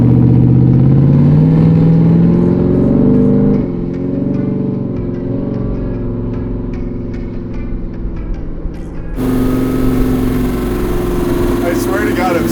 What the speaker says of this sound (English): The sound of American V8, I Just love feel it.